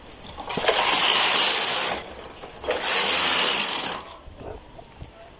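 A knitting machine carriage knits two rows during a corn stitch pattern, heard as two loud mechanical swishing, rattling passes, each lasting just over a second and separated by a brief pause, followed by a few quieter clicks.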